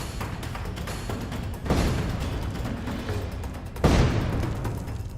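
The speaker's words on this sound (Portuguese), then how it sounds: "Este tanque está tentando romper sob os bombardeios da artilharia ucraniana" Ukrainian artillery shelling around a Russian tank, with two heavy close blasts about two seconds apart rising out of a constant rumble of distant combat noise.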